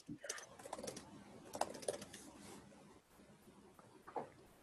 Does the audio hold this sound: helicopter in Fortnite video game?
no